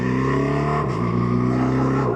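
A 2025 BMW R1300RT motorcycle accelerates hard in second gear in an overtaking lane, the engine note climbing steadily and loudly with a brief dip partway through, heard from the rider's position with no speech.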